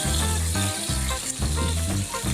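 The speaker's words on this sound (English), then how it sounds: "You can probably really hear this bacon frying" Bacon sizzles and crackles loudly in a hot pan on high heat, a dense continuous hiss with popping spatters, heard close up and with no one talking.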